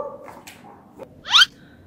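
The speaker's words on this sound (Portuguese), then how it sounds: "Esses cachorros não deixam falar." A single short, sharp dog bark rings out at close range after a quiet stretch, with faint background noise and no talking over it.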